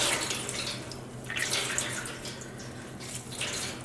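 Water squeezed out of dye-soaked yarn in Easter egg dye, a steady close trickling and splashing into liquid that swells and eases in a few waves.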